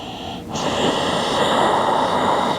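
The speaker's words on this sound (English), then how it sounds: "start to attune to an Ujjayi breath" Ujjayi breathing drawn through the nose during a vinyasa yoga flow, a close, steady, breathy rushing sound after a brief pause, sustained and alone.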